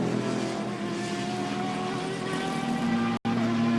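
A turbocharged Ford GT EcoBoost and a naturally aspirated four-litre Porsche flat-six race car roar at Road America in an IMSA race, a loud sustained engine howl with tonal harmonics and a brief dropout near the end.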